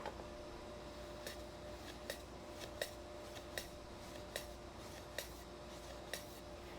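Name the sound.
cutting a chamfer on a board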